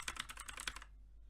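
Quick clicking key presses on a Sandberg Hailstorm keyboard, about seven crisp close taps in a rapid burst, then quiet.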